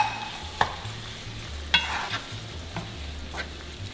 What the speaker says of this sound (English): I am going to add my jalapeno and green onion